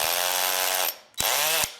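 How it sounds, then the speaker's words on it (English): A cordless hammer drill runs in hammer mode, its internal ratcheting mechanism driving the bit back and forth with a loud, fast, buzzing rattle in two bursts, close by and with no voices. "this is a longitudinal hammering. So it's hammering like a jackhammer, like this. It's using a little ratcheting device to hammer longitudinally whatever bit is in here."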